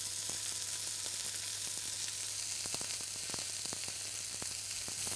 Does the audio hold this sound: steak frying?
yes